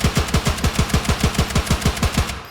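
Rapid, evenly spaced gunfire from a powerful DMR rifle in the video game Incursion Red River, about a dozen loud punchy shots in steady succession with no talking.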